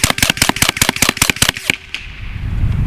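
An AEA semi-auto .25 caliber bullpup air rifle fires a rapid string of about a dozen sharp, loud cracks in even rhythm, then stops, leaving a hissing, rumbling tail.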